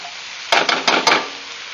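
Vegetables for a chicken lo mein sauté in a hot pan: a steady sizzle runs underneath while three or four louder bursts of stirring and tossing rise over it, close by, with no talking.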